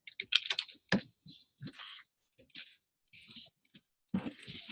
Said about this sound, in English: I'm just going to type it.